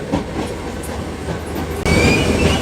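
An Indian Railways express, the Aroni Express, rumbles along with steady wheel and carriage noise, and the roar jumps louder and brighter partway through as if a door or window opens onto the tracks.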